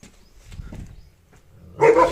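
A short, sharp dog bark rings out near the end after quiet rustling outdoors in a village on a Himachal mountain trek.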